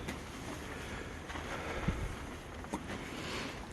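Steady breezy wind rushing over a campground in cold weather, a broad continuous hiss with a couple of brief gusty buffets, no talking.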